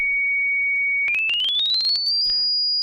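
A pure sine tone near 2,243 hertz holds steady, then sweeps smoothly upward to a higher steady pitch while a series of short clicks ticks along during the rise.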